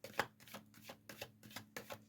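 Tarot cards shuffled by hand in quick riffling bursts, several crisp flutters and slaps close up with a card flipping loose, no talking.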